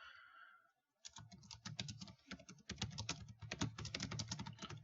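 Rapid typing on a computer keyboard, a steady run of close, crisp key clicks with short pauses after a brief quiet start, no voices.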